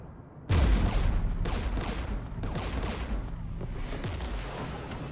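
Heavy gunfire and explosions rumble and crackle in a battle in the video game Mass Effect 3, starting abruptly and continuing as dense, loud volleys with no talk.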